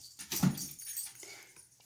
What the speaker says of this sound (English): My dog is playing with her ball.